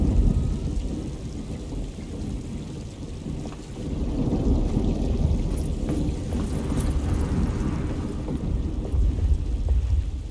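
Thunder rumbles low and heavy over steady pouring rain in the game Alone in the Dark, a dense, continuous storm that swells louder after a few seconds, with no voices.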